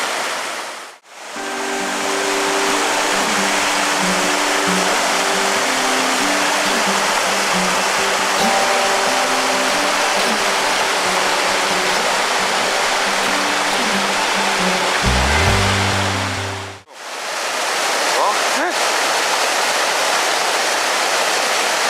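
A trout stream at a fishing spot on opening day, its water rushing loud and steady as a close, dense roar that runs unbroken apart from two brief cuts.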